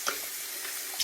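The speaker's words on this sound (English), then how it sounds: "put cold water all over them" Cold tap water runs over boiled eggs in a kitchen sink, a steady broadband splash lasting about a second, with brief louder gushes at the start and end.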